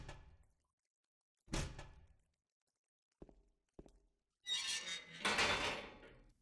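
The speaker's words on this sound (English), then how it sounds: "we find out that the cell is now locked, until we interact with the door a few times" A locked cell door in the Silent Hill 2 video game is tried a few times, giving separate thuds and rattles with pauses between them, followed by a longer, louder metallic clattering at the end.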